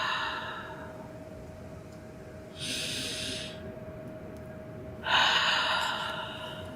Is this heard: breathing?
yes